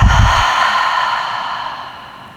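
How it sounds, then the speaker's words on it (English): A single long, close exhale during a beginner hatha yoga session, opening with a brief breathy rush that settles into a soft, fading sigh with no talking. "Take a breath in through your nose. And exhale through the mouth."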